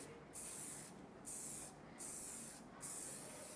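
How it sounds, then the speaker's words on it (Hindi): Hair shine spray hisses onto styled hair in four short, even bursts separated by brief pauses, close and crisp with no talking. "हम शाइन स्प्रे करेंगे।"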